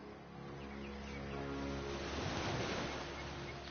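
Ocean waves washing onto a shore in the video game Divinity Original Sin, a soft, swelling surge that builds and recedes over a low, steady ambient drone.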